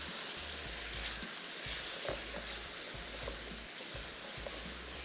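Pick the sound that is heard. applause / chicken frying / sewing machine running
chicken frying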